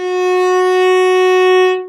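A violin or viola holds a single bowed F sharp, a bright, steady, close tone sustained for almost two seconds before a quick release, heard alone.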